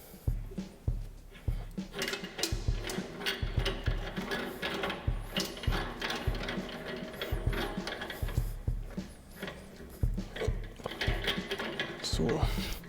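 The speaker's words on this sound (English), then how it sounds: "we have the advantage of having an adjustment screw to limit the pushing depth of the bead breaker, and we'll adjust it now" The bead breaker adjustment screw on a tyre fitting machine is turned, giving a run of quick, close mechanical clicks and rattles that repeat in short bursts under a voice talking.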